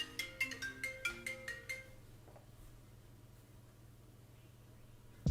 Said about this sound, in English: whenever the phone rings